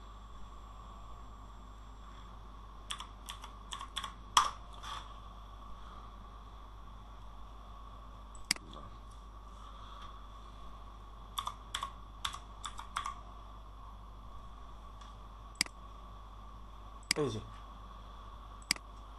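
Bursts of keystrokes on a computer keyboard as a website address is typed, separated by pauses, with a steady low hum underneath and no talking.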